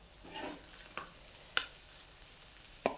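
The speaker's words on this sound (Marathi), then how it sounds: "म्हणजे दोन्ही बाजूने आपला मासा चांगला कडक असा भाजतो" Fish fried crisp on both sides in a pan, giving a soft, steady sizzle with a few sharp clicks and pops scattered through it, heard quietly with no talking.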